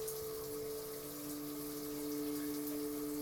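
A shower runs with warm water as a steady, even hiss and rush, held close and constant without pause, alongside a faint low hum.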